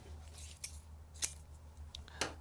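Scissors snip through transfer paper around a printed graphic, three sharp separate cuts spaced evenly over a quiet low hum.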